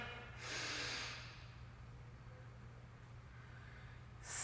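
Breathing during a vinyasa flow yoga class: a single soft, airy exhale rising and fading over about a second, then quiet room tone with a low hum underneath.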